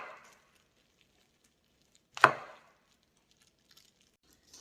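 A kitchen knife slices mushrooms on a cutting board, giving a single sharp, close chop in near silence, with faint rustles before and after.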